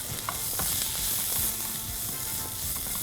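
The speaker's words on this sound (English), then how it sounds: "And now I'm going to tip in the tomatoes." Roughly chopped tomato tipped into a hot pan for an egg masala curry, giving a loud, steady close sizzle and frying crackle that continues throughout, with no voices.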